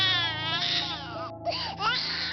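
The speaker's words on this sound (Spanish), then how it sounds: "El llanto del bebé se seguía escuchando." An infant wailing in a dark, eerie horror tale, a close, sustained high cry with wavering pitch that breaks into short sobbing bursts over a faint low drone.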